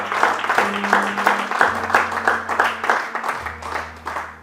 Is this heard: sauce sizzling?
no